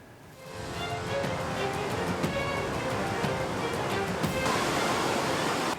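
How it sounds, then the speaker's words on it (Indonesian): A swift river current rushes with a dense, steady roar that swells after the first half-second and then holds constant. A search-and-rescue team is working at the river. "Di tengah derasnya arus sungai"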